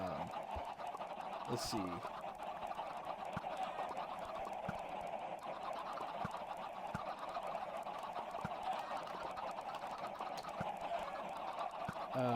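Many chickens in a Minecraft chicken farm cluck repeatedly in a busy, steady chorus, and a person speaks briefly over the flock near the start.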